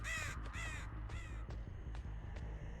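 Crows caw from the Dead by Daylight video game, several harsh calls in quick succession, the first two loud and close, then fainter ones spaced apart over a constant low game hum.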